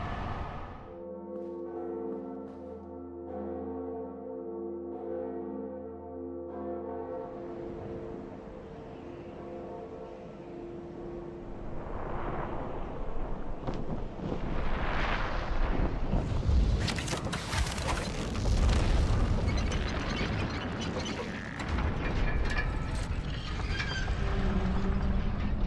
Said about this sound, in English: I ring the second bell, which opens the gate to Sen's fortress.